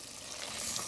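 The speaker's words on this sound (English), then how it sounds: "So I add just about a cup of water so those potatoes can cook" Water poured into a hot pot of cooking potatoes, a steady broadband sizzle that holds even and close, swelling slightly toward the end, with no voices.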